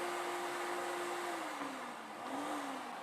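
A workshop dust collection system running, a steady loud whooshing drone with a constant motor hum that dips slightly in pitch partway through and keeps going.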